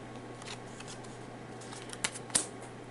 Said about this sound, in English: And I will draw cards for him.